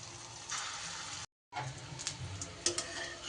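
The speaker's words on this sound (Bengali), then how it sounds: "তেল বেশ ভালো করে গরম হয়ে গেলে এইবার তিল আর পোস্তর যে ডোটা তৈরি করলাম সেইটা এইভাবে ছোট ছোট বড়ার আকারে দিয়ে দিতে হবে।" Small sesame and poppy seed fritters dropped into hot oil, a steady crackling sizzle that breaks off briefly, then resumes with sharper spits and pops, close and moderately quiet.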